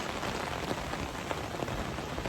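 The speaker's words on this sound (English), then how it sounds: "it is raining on my umbrella" Rain drums steadily on an umbrella held close overhead, a dense, even patter with scattered louder drops and no talking.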